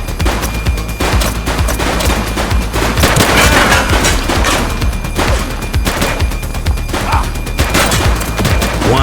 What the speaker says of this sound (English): Light them up! Shots fired!